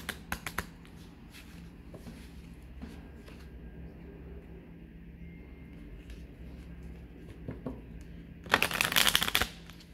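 Oracle deck cards being shuffled by hand, a few quick riffles at the start, soft rustling through the middle, then a loud dense burst of shuffling near the end, close up in a quiet room.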